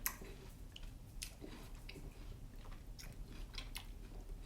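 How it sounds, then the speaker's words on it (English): Quiet, soft bites and moist chewing of a crisp wax jambu fruit, several close crunches spaced irregularly, with no talking. "it's an easy chew"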